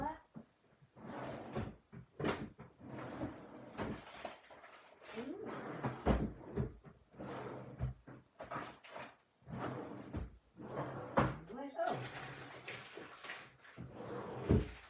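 Someone rummaging through drawers while hunting for a pen: repeated knocks, slides and clatters of drawers and cupboard doors opening and closing, scattered irregularly across the stretch.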